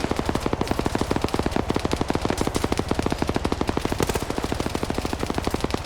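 M249 machine gun firing at an Mi-8 helicopter in a video game, one long unbroken burst of rapid, loud, even-paced shots at close range with no talking.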